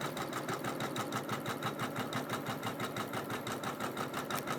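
Embroidery machine stitching gold thread into red fabric on a quilt in the hoop, a steady fast needle rhythm running continuously and close up.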